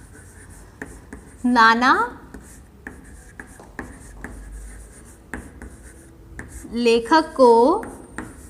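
Pen scratching on paper while writing an answer by hand, soft close strokes and taps running throughout, with someone speaking briefly twice over it.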